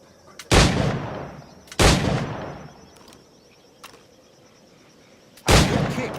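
Three heavy booming gunshots in Assassin's Creed IV Black Flag, each a sharp loud blast with a rolling tail, spaced unevenly with a couple of faint clicks between them.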